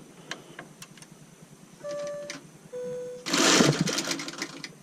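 A quilting machine with a malfunctioning stitch regulator starts stitching by itself, giving two short tonal whirs followed by a loud burst of rapid mechanical rattling, with light ticks before.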